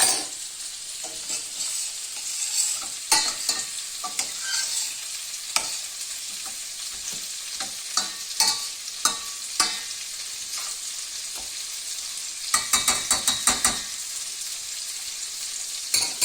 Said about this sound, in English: Can you stir this for me, please?